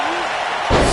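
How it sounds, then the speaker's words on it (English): A wrestling video game body slam lands as one heavy, booming thud, loud and close, following a moment of crowd and arena noise. "Slammed with authority."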